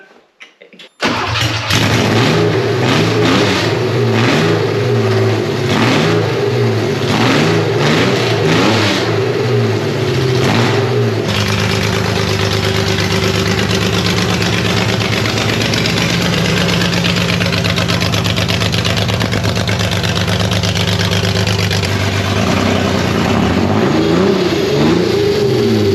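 A budget-build air-cooled Porsche 911 flat-six runs with no exhaust muffler fitted, loud and close: a raw starting burst, choppy revving for about ten seconds, then a steady rough idle with occasional blips, no voices.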